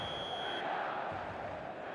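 Broad roar of a stadium crowd at an eFootball video game match, a steady dense wash of cheering that holds for the whole two seconds. A high alarm-like tone rings over it at first, then cuts out.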